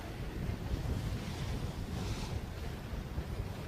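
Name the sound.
wind blowing on the water during a sailing race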